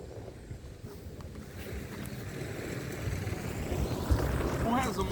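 Outdoor wind rumbling and buffeting against a microphone, a continuous low roaring wash that builds slightly toward the end, with a voice speaking over it.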